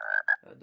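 A mobile phone's message notification tone that mimics a frog's croak: two quick, bright, nasal chirps followed by a lower warble, short and fairly quiet, with a voice speaking briefly near the end.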